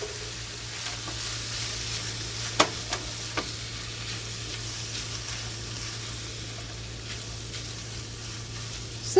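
Sausage stuffing for acorn squash sizzles steadily in a hot pan while a spoon stirs it, with a few sharper scrapes and clicks against the pan and no talking.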